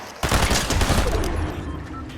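A toy gun fires a sudden, loud, crackling burst of rapid shots that fades into a hissing tail over about two seconds.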